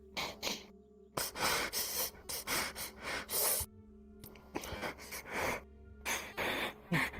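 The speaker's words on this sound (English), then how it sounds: "Try and slow down your breathing." Heavy, rapid breathing with sharp gasps, a run of ragged inhales and exhales in quick bursts broken by brief pauses, close and loud.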